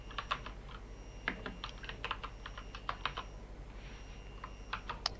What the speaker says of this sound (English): So just type in like this is some text that I am typing something.